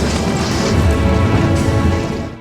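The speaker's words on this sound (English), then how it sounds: "Not through gunshots, but through something even more shocking," An explosion in The Godfather, a loud, dense rumbling blast with heavy low end that swells and holds for about two seconds before easing off, with no voices over it.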